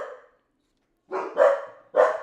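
Two dogs bark indoors, first a single bark, then a short silence and three loud, close barks in quick succession.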